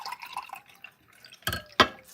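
A liquid poured into a glass or container, a short burst of splashing and dripping after some faint background clatter, close and fairly quiet.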